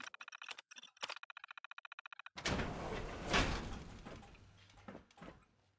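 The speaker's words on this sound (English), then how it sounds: "Open door." Terminal key clicks in the video game Fallout 4 patter for about two seconds, then a heavy door opens with a loud mechanical rumble and whoosh that swells and slowly fades.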